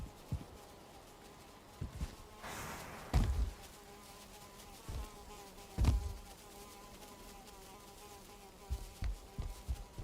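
In the video game Valheim, a mosquito drones steadily at low volume through the whole stretch, its thin buzz broken by a few soft thumps and footstep-like knocks.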